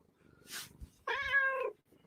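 A cat lets out one clear, drawn-out meow up close, preceded by a brief rustle and a soft thump in an otherwise quiet room.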